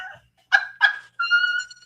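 A dog gives two short sharp yips followed by a longer whining bark, close and fairly loud, with brief silent gaps between the calls and no talking.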